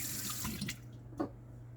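Tap water runs steadily into a sink while knives of carbon and stainless steel are rinsed, with quiet clinks and splashes near the faucet.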